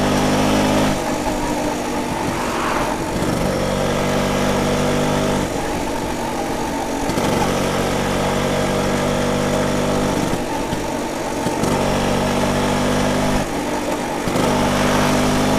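A 1967 BSA Bantam 175 D10 motorcycle's small single-cylinder engine runs on a test ride, a loud buzzing drone that rises and falls in pitch as it repeatedly revs up through the gears and eases off.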